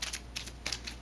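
A deck of game cards is shuffled in a few quick riffling bursts, soft papery flutters close by over a steady low hum, with no talking.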